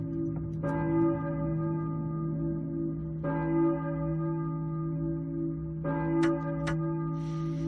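Church bell tolling in the Silent Hill PlayStation 1 game: three spaced, ringing strikes, each decaying slowly over a constant low hum, moderately quiet with no voices.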